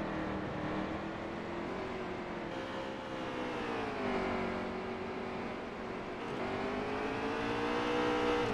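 Race truck engines in the NASCAR Heat 3 truck series at Canadian Tire roar in a steady, continuous drone that rises and falls in pitch as they accelerate and shift, with several engines layered together and no talk over them.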